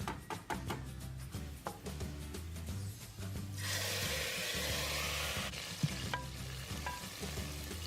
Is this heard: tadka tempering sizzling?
yes